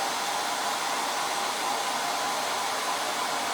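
A handheld hair dryer on its cool setting blows over freshly applied Chalk Couture transfer ink on a shirt, a steady, close, unbroken whoosh with no voices over it.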